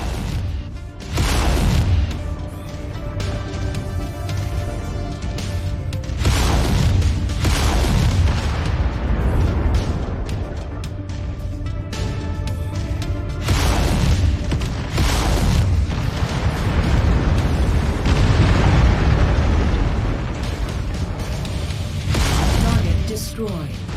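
Explosions in MechWarrior 5 boom repeatedly in heavy, loud bursts over a constant rumbling battle din, with a voice speaking at times.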